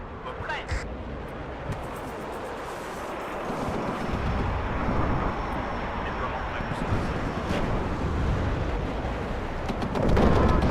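Heavy, rumbling explosion in the WARNO real-time strategy game, a sustained low roar and crackle of battle that swells around the middle, with no talk over it.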